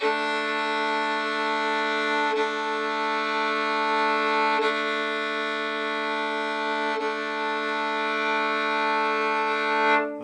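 A sustained bowed violin double stop, two steady notes ringing together with the open D string, played gently and evenly for about ten seconds with faint bow changes.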